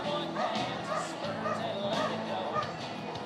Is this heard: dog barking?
yes